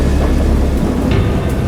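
Loud, continuous rumbling thunder in a great storm, a deep, dense roar with rain-like hiss that stays heavy throughout.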